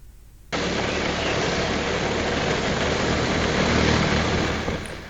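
Continuous broadband rush of wind and engine while riding a motorcycle, captured on an Acroder Q5 vlog camera; loud, steady roar starting abruptly and holding for several seconds with no talk.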